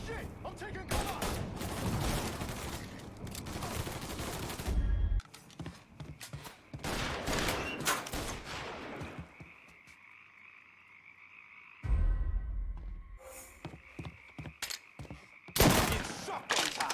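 Shotgun blasts in a Mafia 3 gunfight, heard as loud booming bursts amid a noisy stretch of shooting, with game characters shouting in between.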